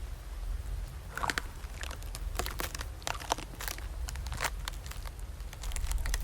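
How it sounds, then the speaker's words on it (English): An ancient tree in the dark adventure video game Oknytt chews two plants into a thick salve, producing wet crunching and crinkling bites in an irregular rhythm over a low rumbling background. "The ancient tree cleared his throat before continuing to chew both plants into a thick salve."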